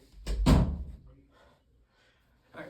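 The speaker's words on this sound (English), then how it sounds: "Let me go ahead and close the door real quick" A door swinging shut with two quick, heavy thuds close by, then fading rattle and near silence, with a faint soft knock at the end, in a room with pedestal fans.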